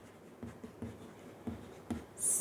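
Chalk or marker strokes on a board during a Hindi grammar lesson, soft scratchy rhythmic scribbles close by, with a bright squeak at the end and no talking.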